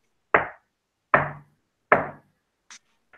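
Three evenly spaced, solid knocks on a large wooden door ring out loud and close, followed by a couple of faint, higher taps.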